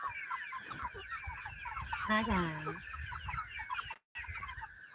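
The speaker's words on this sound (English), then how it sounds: "Should we show them the chickens? The meat birds?" Cornish Cross meat chickens cluck and call near and fairly loud, with one drawn-out rising squawk standing out over steady farmyard fowl chatter; a person briefly speaks.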